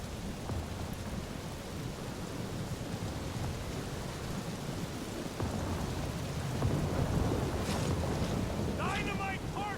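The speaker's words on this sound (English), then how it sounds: "That is some really crazy lightning out there!" Thunderstorm with lightning and heavy rain in the Guardians of the Galaxy video game: a constant roar of rain and wind, with rumbling thunder swelling louder in the second half.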